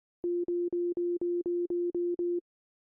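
Arturia Pigments 6 synth sequencer repeating a single F note in minor pentatonic mode: nine even, evenly spaced tonal pulses at the same pitch, clean and alone, then stopping.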